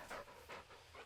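A dog pants in the video game Blair Witch, three quick breathy puffs in steady rhythm, faint and close with no voices.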